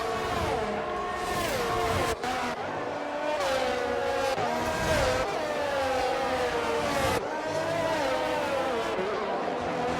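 Race cars lapping the Canada circuit in a racing video game, engines whining up and down through gear changes in a continuous loud drone, with brief cuts and what may be faint commentary underneath.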